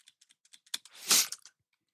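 Quick bursts of keyboard keystrokes type out a syllable in a single burst, then fall silent. The soft, close clicks come as a short flurry on one keyboard.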